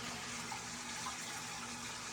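Water fountain running in a 300-gallon indoor turtle pond inside a greenhouse, a steady, continuous splashing and trickling wash that holds at an even level throughout, with no talking.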